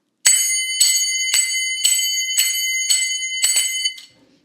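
Finger cymbals (zills) struck strongly and loudly, seven bright ringing metallic strikes at a steady rhythm, each with a short shimmering decay, close and clear with no talk.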